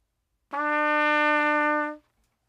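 A single sustained trumpet note E, clean and steady, held for about a second and a half before stopping, with no talking.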